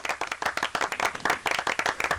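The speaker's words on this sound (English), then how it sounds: "A round of applause for Rob, please." A studio audience at a live talk show bursts into dense, rapid applause, many hands clapping loudly and continuously with no voices over it.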